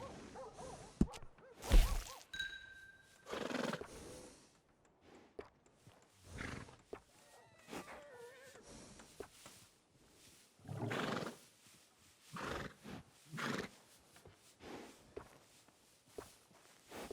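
A workhorse in the video game Red Dead Redemption 2 gives a sharp, loud whinny near the start, followed by scattered snorts, hoof clops and shuffling footsteps, with no talking.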